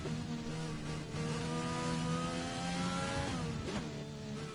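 A race car engine on an onboard lap of the United States Grand Prix circuit with Taylor McKenzie driving, revving loud and close in a sustained, shifting whine that rises and dips through the corners.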